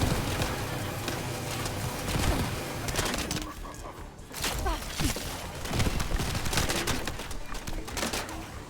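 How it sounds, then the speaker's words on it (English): A laser gun fires repeatedly in the video game The First Descendant, giving rapid, uneven bursts of sharp shots over a busy mix of game effects and background sound. "This laser gun works well."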